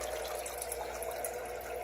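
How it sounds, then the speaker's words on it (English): Low-flow filter running in an axolotl tank, a steady continuous trickle and wash of water, fairly close and even in level throughout, with no talk. "They have a low flow filter."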